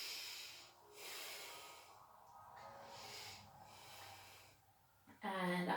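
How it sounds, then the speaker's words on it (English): Slow, soft breaths drawn in and out during a quiet prenatal yoga session, several long airy inhales and exhales, followed at the end by a brief voice. "Slowly breathing down."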